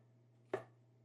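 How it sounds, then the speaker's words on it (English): A knife slicing through leeks on a cutting board, cutting them into bite-sized pieces: one crisp, close chop standing alone over a low steady hum. "just cut these into, like little bite-sized pieces"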